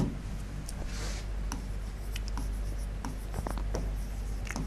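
Pen scratches across paper in quick bursts of handwriting, close and crisp, with short strokes and small taps punctuating a steady low background.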